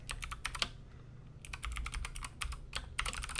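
Bursts of rapid typing on a computer keyboard, quick crisp key clicks in short runs separated by brief pauses, close and fairly quiet.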